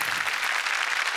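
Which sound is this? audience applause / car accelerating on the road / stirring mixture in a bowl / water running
audience applause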